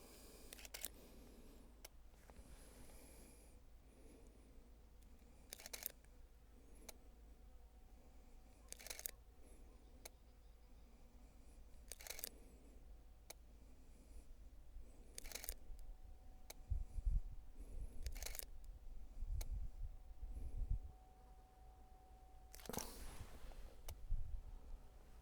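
A camera shutter firing one frame at a time outdoors while photographing a small flower, sharp single clicks spaced a few seconds apart, close, over faint background noise, with no talk.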